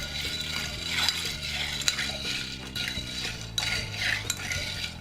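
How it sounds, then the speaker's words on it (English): A spoon stirs a lemonade drink in a glass, giving a run of light clinks and scrapes that hold for several seconds with a few sharper taps, close by and with no talk. "I'll just stir it up"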